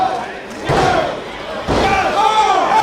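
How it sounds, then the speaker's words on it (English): In a Beyond Wrestling match, a wrestler is driven face-first into the mat with a pedigree. Two heavy, booming thuds land about a second apart amid crowd noise, while a commentator's voice runs underneath. "Executing that butterfly, slamming the face directly into the center of the mat"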